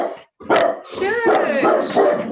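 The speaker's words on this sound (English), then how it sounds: "I like the last bark there when you said, "Have you stopped?"" A dog barks at home in a few loud, close yips and barks, mixed with whimpering, while a person talks over it.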